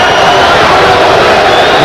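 A Maryland home basketball crowd in 1986 roars loudly at a foul call against Georgia Tech, a dense continuous wall of booing and shouting filling the arena.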